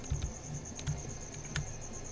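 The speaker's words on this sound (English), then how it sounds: "I just realized I forgot to put away the crickets again" Crickets kept indoors chirp in a quiet room, a faint steady high trill running under soft low taps and bumps, no speech.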